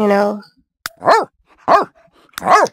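Several deep barks from a large Akita dog in The Sims Pets game, three separate woofs spaced roughly evenly, loud and close, following a brief tonal synthetic tone at the start.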